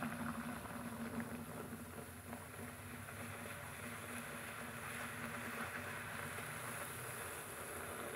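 Ajwain poori dough dropped into hot oil makes a faint, steady bubbling sizzle that continues evenly throughout.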